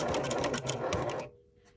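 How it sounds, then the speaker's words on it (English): A sewing machine runs a straight seam on upcycled jeans, a rapid close mechanical chatter of stitching for over a second before it stops, leaving a faint hum. "And then all we're doing is sewing a straight line."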